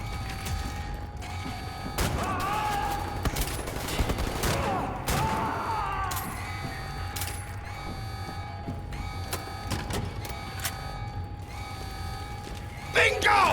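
Rapid laser gunfire in the game Wolfenstein: The New Order, with sharp repeated zaps and mechanical clatter across a steady noisy battle, louder toward the end.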